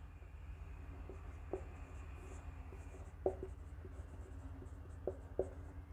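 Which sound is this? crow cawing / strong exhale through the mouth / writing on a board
writing on a board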